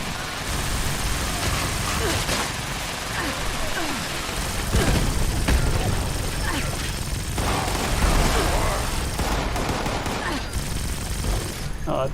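Sustained heavy gunfire from a heavy gunner weapon in the video game Fallout 76, a dense continuous rattle of rapid shots that runs loud throughout, with a voice talking over it at times.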